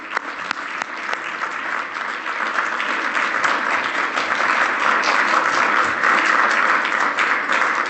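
Audience applause welcoming the Lieutenant Governor of Ontario, Elizabeth Dowdeswell, at a formal head-table event. Steady, dense clapping from a large room fills the whole stretch, swelling slightly midway and holding strong to the end with no voices.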